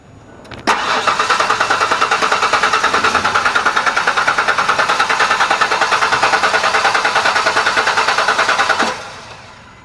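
A car's starter motor cranks continuously for about eight seconds with a fast, even, rhythmic whirring but never catches. The car is in southern Mexico and has a fuel pump fault leaving it without fuel.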